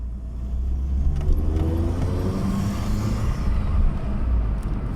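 An Opel Corsa is out on a test drive after earlier stalling, its engine giving a steady low drone mixed with road and wind rumble, plus a few light rattles, with no one speaking.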